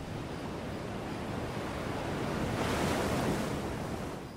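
Waves of the incoming tide wash in at night on the Pacific coast of Costa Rica, a continuous soft surf roar that swells gently, with a faint breaking rush partway through and no voices.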